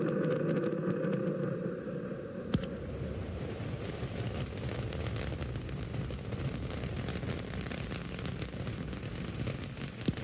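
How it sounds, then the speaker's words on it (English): Space Shuttle Columbia's three main engines during launch on the STS-28 mission: a continuous, heavy broadband roar with crackling texture that holds steady throughout, loud and without speech. "3 main engines up and running"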